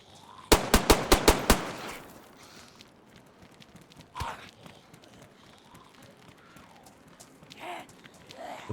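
Rapid burst of five or six sharp gunshots early on in DayZ, a zombie survival game, followed by a single louder shot a few seconds later and faint movement sounds.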